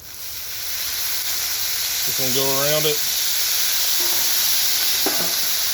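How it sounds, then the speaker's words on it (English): Meatballs on a griddle hiss and steam after a spray of water, a continuous broad sizzling wash that holds steady while someone speaks briefly over it. "we're going to spray a little water in there and cap them to help get the inside done"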